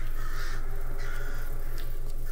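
Caws from crows perched on a haunted mansion roof in a Scottish indie game, repeated calls at a moderate distance over a constant low droning game background.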